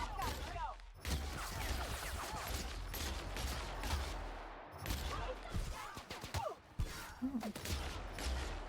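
Gunfire in The Outer Worlds video game, bursts of shots rattling through most of the stretch with brief gaps, loud and close, with a short spoken exclamation near the end.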